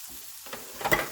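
Chopped shallots hit a hot pan and start to sizzle, a brief quiet hiss that swells into a sharper crackle near the end of a short moment.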